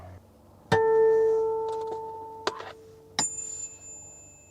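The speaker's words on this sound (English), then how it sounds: "when I hit the harmonic on the 5th fret, on the 5th string, I get that harmonic sound" Bell-like guitar harmonics at the fifth fret on the fifth string ring out clearly, struck three times in succession, each chiming tone sustaining and slowly fading.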